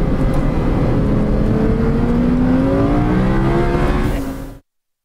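An Audi R8 sports car accelerates hard at the Circuit de Catalunya, its engine note climbing steadily in pitch at close range and staying loud for about four seconds before cutting off abruptly.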